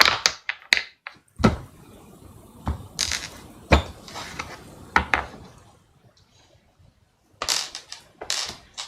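Tarot cards are shuffled in a series of sharp riffling bursts and crisp taps, separated by quiet pauses, close and alone.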